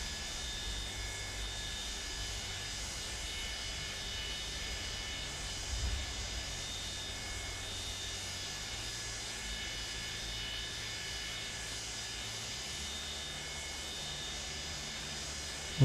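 Boeing 727 jet engines droning steadily inside Microsoft Flight Simulator 2024 as a constant broadband roar with tonal whine, loud and unbroken throughout, with a brief bump partway through and no talk.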